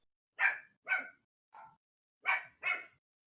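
A small puppy barks five times in quick, sharp yaps: two close together, a softer one after a pause, then two more in a fast pair. No talking is heard.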